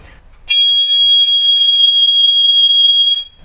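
A piccolo sounds one high G note, loud, bright and piercing, held steadily for nearly three seconds before stopping cleanly.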